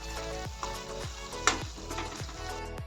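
Ground paste with salt and turmeric fries in hot oil for a dry fish curry, a steady close sizzle punctuated by a few spoon scrapes and taps against the pan.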